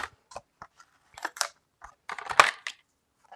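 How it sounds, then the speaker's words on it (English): Scissors snip out a small square of red glitter paper in a series of short, sharp, close cuts with brief pauses between them, no voices. "I'm just going to cut a little square out of it, just enough for all of the ornaments"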